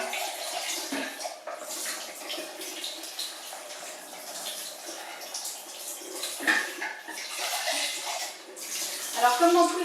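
Running water streams steadily over a Juicepresso juicer's extraction bowl as it is rinsed under a tap, a continuous broadband splash with small surges and clatters, loudest toward the end.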